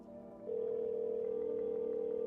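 Telephone dial tone inside the video game No, I'm Not a Human, a steady unbroken hum starting abruptly after a moment of quiet and continuing at a constant level.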